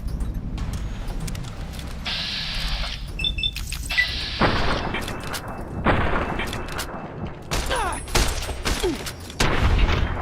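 Gunfire in Fallout New Vegas on a modded PC, several separate shots and booming bursts spread over ten seconds, loud and close, with other game noises between them.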